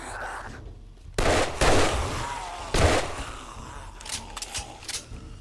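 Bursts of AP-ammo gunfire in the survival game 7 Days to Die: a few loud, sharp shots spaced apart, followed by quicker, fainter cracks near the end, with no talking.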